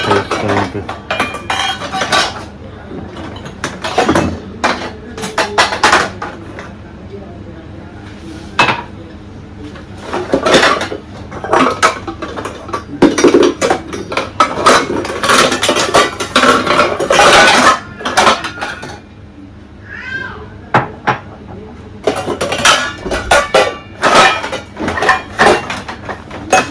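Pots, pans and cutlery clatter and clink in a home kitchen during a hunt for a pan to make tea, with repeated bursts of metallic knocking and scraping close by.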